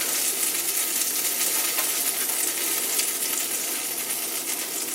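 Egg frying in a cast iron pan during a breakfast burger cook, a steady broadband sizzle and crackle holding even and moderately loud throughout, with no talk.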